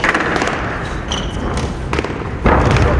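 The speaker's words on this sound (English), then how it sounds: "Drop shot." Rally in a 1998 British Nationals badminton match, with a few sharp racket strikes on the shuttlecock and footfalls on the court amid arena crowd noise, ending in a louder burst of crowd reaction.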